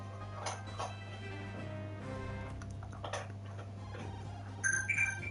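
Near the end, a brief electronic notification chime rises over a steady low hum and faint clicks in a quiet room.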